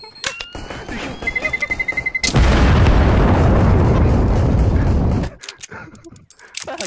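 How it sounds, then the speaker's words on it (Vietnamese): A smoke grenade thrown in Counter-Strike on the Inferno map, a loud, sustained hissing burst lasting about three seconds, preceded by short gunfire-like clicks and footsteps. "Laying down smoke."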